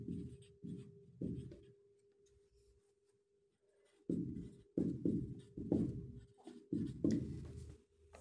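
Chalk or marker scratching across a board while working a math problem, several short bursts of strokes with pauses between, close and fairly quiet, with no talking.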